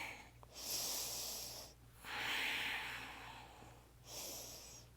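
Slow, steady breathing during a yoga stretch, three long, soft breaths in a quiet room with a faint hum underneath.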